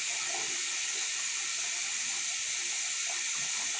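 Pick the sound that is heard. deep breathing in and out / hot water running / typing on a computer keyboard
hot water running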